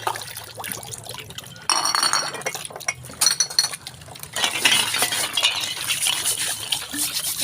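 Glass bottles clink and knock together while being washed and rinsed, with water splashing and pouring between the bright, irregular clinks at close range.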